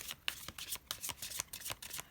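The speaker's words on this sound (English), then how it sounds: "You guys can feel free to skip through the shuffling if you'd like" Tarot cards shuffled by hand in a quiet room, a run of soft, papery riffles and slaps repeating every fraction of a second, close and moderately quiet, with no talking.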